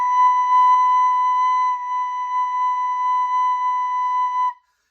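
A recorder holding the note B, one steady, pure, flute-like tone lasting about four and a half seconds, close and clear, then stopping abruptly, with no voices.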